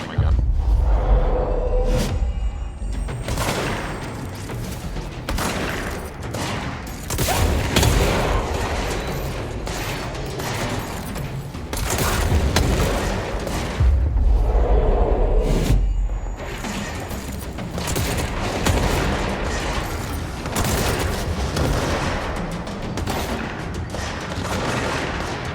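Gunfire in the video game Control, a sustained barrage of loud shots and booms with heavy impacts and occasional whooshes, firing continuously throughout with brief lulls.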